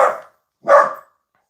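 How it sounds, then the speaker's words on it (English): A dog named Papu lets out two loud barks, a short one then a fuller one after a brief pause, close by with nothing else around them. "Now he's going to bark really loud."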